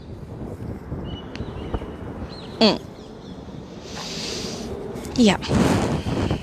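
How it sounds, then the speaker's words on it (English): Wind gusting outdoors in Vilvoorde, Belgium, a steady rushing noise close to the microphone, with a brief voice and a couple of high bird-like calls cutting through. "if you can hear the wind blowing around me"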